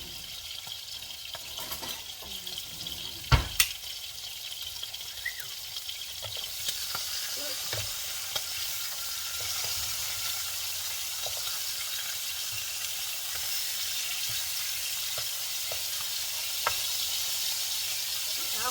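Pork chops sizzle and spit in a hot frying pan after being flipped, a steady bright crackle running throughout, broken near the start by a sharp clatter of utensils and a few lighter knocks.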